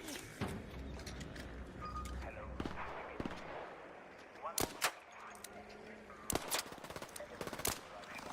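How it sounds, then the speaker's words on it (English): Gunfire in the video game Arc Raiders, with sharp shots cracking out in irregular bursts, a pair near the middle and a faster cluster toward the end, over a busy background of game noise. "Is someone trying to snipe at us?"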